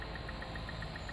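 Spaceship engines engage in the Elite: Dangerous video game, a loud, dense, steady mechanical drone with a faintly pulsing high tone, no speech, held throughout this short moment.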